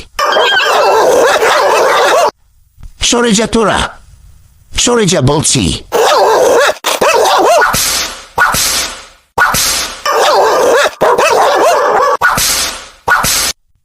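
Cartoon dogs bark and yelp in front of a house in repeated loud, close bursts with short gaps, while someone shouts at them over the noise.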